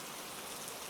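Steady rain falls, a dense, even hiss of countless drops pattering on surfaces, continuous and close with no voices.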